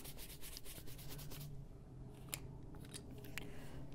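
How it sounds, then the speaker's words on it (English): A tool lightly scrapes coloured pencil off a drawing page, making dry rasping strokes at first that thin into quieter scratches and small ticks. "Just lightly scraping up the color underneath."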